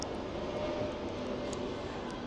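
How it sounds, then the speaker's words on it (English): A plane passes overhead near a seaside fish and chips spot in Fuerteventura, a steady faint broadband roar running throughout with no talk. "the plane's going overhead again"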